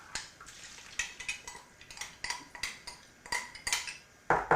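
A spoon stirs and scrapes fig cookie filling in a bowl, giving steady rhythmic clinks and scrapes at close range with no talking.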